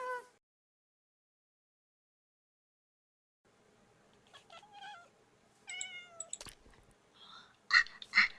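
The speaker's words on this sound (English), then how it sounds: "Kitty cat." A Minecraft cat gives several short meows and squeaky calls, moderately loud and close, over faint background noise after a quiet stretch.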